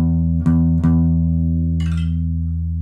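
Low E string on an acoustic guitar rings out steadily, sustained and close, with two soft plucks near the start and a faint higher chime from a tuner partway through.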